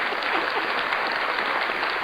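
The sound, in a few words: applause sound effect played on a podcast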